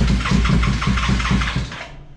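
A motorcycle engine running on ethanol, fitted in a Renault 4L, idles roughly and loudly up close with a steady throbbing pulse on a cold morning, the sound fading slightly at the end; no talk.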